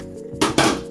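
A bowl lifted from a dishwasher full of stored dishes sets off two quick ceramic clinks and clatters, close and crisp, with no talking.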